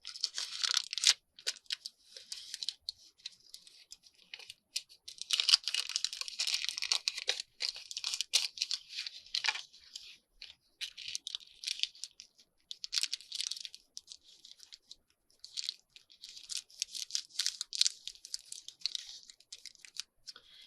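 Patterned paper is folded by hand for altered playing card tags, giving close, quiet crinkling and crisp rustling in irregular bursts with brief silent gaps between handling.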